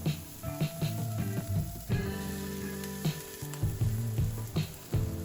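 Swiss chard sautéing in a smoking-hot oiled pan, with a loud close sizzle and crackle, bursts as the leaves are moved, and faint tonal clinks over the frying.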